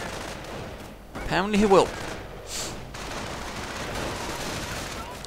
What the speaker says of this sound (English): Though they should be careful advancing right into automatic fire.